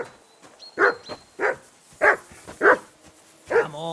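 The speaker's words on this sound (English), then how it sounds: "Call off that damn dog before he wolfs down the last of our meat" A dog barks in the medieval game Kingdom Come: Deliverance II, giving about six clear, separate barks at an uneven pace, fairly close and loud over a quiet background, with a faint high tone and a brief whine near the end.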